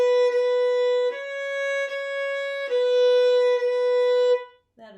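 A string instrument repeats a wrong C sharp, sounding a sustained, clear pitched tone four times with small breaks between bow strokes, loud and close, before a brief voice at the very end.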